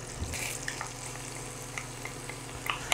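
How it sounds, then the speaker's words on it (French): Onion cooking in melted butter in a pan, a soft continuous sizzle with a low hum underneath and occasional faint pops and clicks, steady and moderately quiet with no voices. "Une fois le beurre fondu, on va mettre notre oignon."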